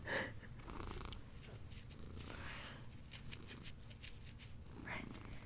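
A cat named Xanax purrs close up in a continuous low rumble, steady and soft, with a few faint breathy snorts and small noises on top.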